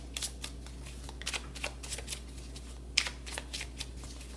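Tarot cards shuffled by hand in a series of quick, crisp riffling bursts, with a sharper snap near the middle, close and fairly quiet, with no talking.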